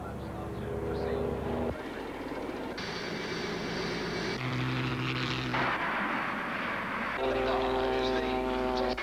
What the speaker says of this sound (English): and of course, the Douglas DC-3.